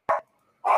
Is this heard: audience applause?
no